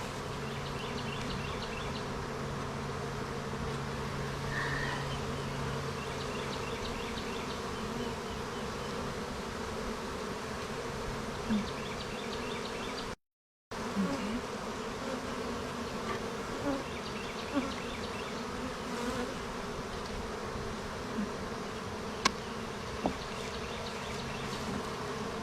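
Honey bees swarm around an open hive, a dense steady buzzing drone close to the listener that carries throughout with occasional light knocks and clicks, no talking.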